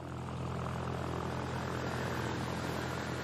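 A propeller airplane flying over the Saint-Émilion vineyards in Gironde, heard as a loud, steady engine drone close by with no talking.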